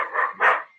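Two loud, close dog barks come in quick succession, the second sharper, with no other sound around them.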